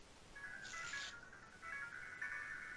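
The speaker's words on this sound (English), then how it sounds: "Someone's phone is going off." A phone ringtone goes off during a tabletop role-playing game session, a steady electronic tone that repeats in short bursts and stays fairly faint under the room's background.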